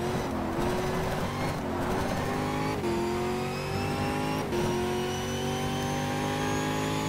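A race car engine in the GTR 2 racing game at Virginia, U.S.A., revs loud and close, rising through gears with several shift dips and a steady high whine across the whole lap.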